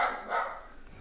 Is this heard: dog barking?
yes